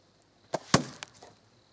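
Two sharp arrow impacts from a Pocket Shot slingshot, close and fairly loud, a second apart, followed by a couple of fainter knocks as the arrows settle.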